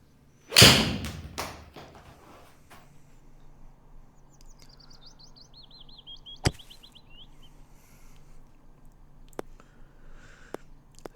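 A golf ball struck with a 5 iron on an Alabama course gives one sharp close thwack, then quiet outdoor air with birds chirping and a few faint distant clicks.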